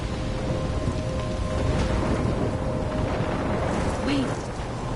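A storm keeps up a steady wash of heavy rain, and low thunder rumbles underneath. The whole downpour stays dense and close, with a faint voice-like tone briefly surfacing near the end.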